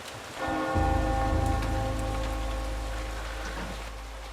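A large bell tolls in the dark world of the video game Eternal Darkness, one heavy strike opening a long, resonant hum that lingers under a steady rain-like wash of ambience.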